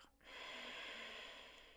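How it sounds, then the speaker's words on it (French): An exhale pushed from the lower belly in a yoga breathing exercise, a close, soft, airy breath out that starts suddenly and holds steady for about a second and a half before fading slightly. "et expirer, pousser ses mains vers l'intérieur."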